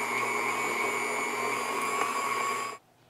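A KitchenAid stand mixer running its shredder attachment on cheese, a steady motor whine with a sharp high tone that holds for under three seconds and then cuts off abruptly into quiet.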